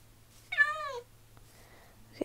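A single drawn-out cat meow from Minecraft Pocket Edition, clear and fairly close, with a faint steady hum underneath and a soft click near the end.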